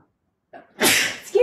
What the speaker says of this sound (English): I'm having chai tea and that cinnamon usually makes me sneeze